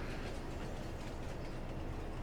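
A train in Farming Simulator 22 rumbles steadily along with a dense, continuous rolling roar and faint rattling, constant in loudness throughout.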